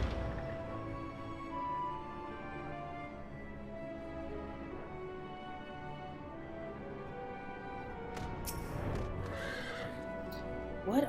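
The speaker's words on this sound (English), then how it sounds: "I'm riding a mount" A horse-like mount ridden in Final Fantasy XIV, with a soft steady hoofbeat bed and a clear neigh and whinny rising near the end, moderately close.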